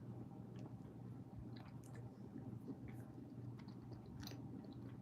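Close, soft chewing of Starburst candy, with steady sticky squishes and small clicks of the mouth over a quiet background hum.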